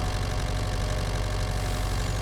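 Tractor engine in Farming Simulator 25, a steady low idling drone held at constant loudness throughout, close and alone with no talk.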